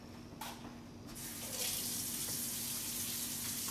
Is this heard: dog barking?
no